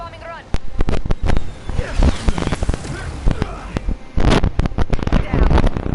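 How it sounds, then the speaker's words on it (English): Bombs go off one after another during a bombing run in the Spider-Man PS4 video game, giving loud, dense bursts and booms with crackling debris, while voices talk over the action. "Commencing bombing run."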